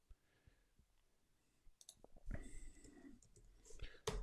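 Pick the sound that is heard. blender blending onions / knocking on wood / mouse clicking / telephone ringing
mouse clicking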